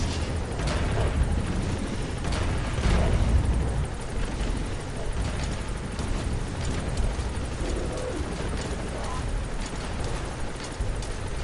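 A support helicopter in the video game Metal Gear Solid V gives off a dense, continuous rotor and engine roar. It stays loud and steady throughout, with faint rumbling mixed in.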